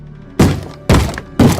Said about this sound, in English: I heard a door being banged like a zombie breaking in